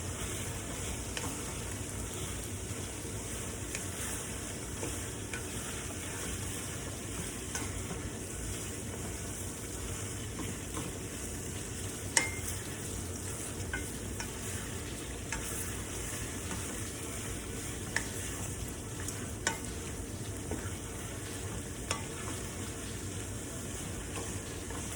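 Pork and ginger stir fry sizzles steadily in a pot, a continuous close crackle and hiss with occasional faint pops and no pauses.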